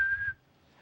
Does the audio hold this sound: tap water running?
no